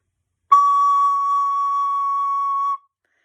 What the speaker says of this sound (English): So to play a C sharp, it's just 2 fingers down and your thumb is off the back.